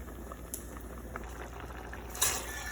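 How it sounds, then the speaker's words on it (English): Spiced mixture poured into a pot of lentils after the heat is turned off, giving a soft bubbling and sizzling patter with a brief louder splash near the end. "we're gonna come bring it over to pour it into the lentils"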